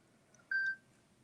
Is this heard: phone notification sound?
yes